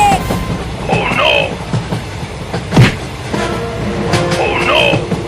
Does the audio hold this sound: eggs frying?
no